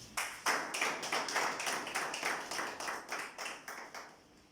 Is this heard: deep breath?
no